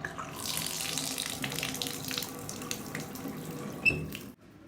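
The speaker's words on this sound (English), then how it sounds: "That sound like water to you?" A tap runs steadily into a sink with a broad rushing hiss and a small squeak near the end as it is turned off, leaving silence, with no voices.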